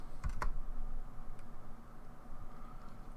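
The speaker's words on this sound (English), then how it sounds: "You type in Pi, then the password for Pi." Typing a password on a computer keyboard while setting up Pi-hole on a Raspberry Pi Zero W, a few faint, soft key taps at the start, then quiet room hiss.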